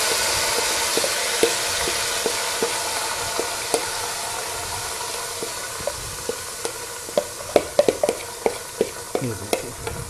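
Marinated chicken for a spicy curry frying in oil while being mixed, a steady hiss with sharp spoon knocks against the pot that grow louder and more frequent toward the end.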